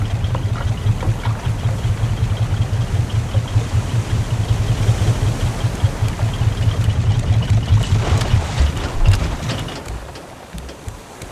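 Boat engines in the survival game RAFT give a constant low rumbling drone with a textured wash on top, steady for most of the stretch before thinning and fading near the end.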